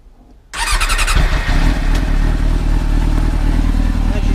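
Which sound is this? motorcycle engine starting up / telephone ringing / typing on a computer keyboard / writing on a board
motorcycle engine starting up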